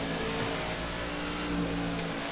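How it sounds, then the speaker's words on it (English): A NASCAR '15 stock car engine losing power and about to blow during the Sylvania 300, droning loudly and steadily with a continuous whining roar. "Guys, this engine's gonna blow."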